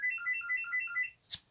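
A phone ringtone plays a repeating two-tone electronic trill in even bursts, moderately loud and clear, then cuts off with a short sharp click or knock at the end.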